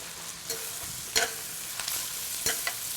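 Rice with allspice, cinnamon and bay leaves being stirred in a hot pan for a Greek pilaf, a steady soft sizzle broken by a few sharper scraping strokes of the spoon, close and alone.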